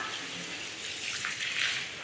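Water pours steadily into an outdoor drain, a continuous hissing gush at moderate volume that swells slightly toward the end, with no talking.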